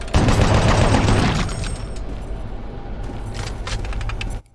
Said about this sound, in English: You might have seen me using the chain gun a little bit.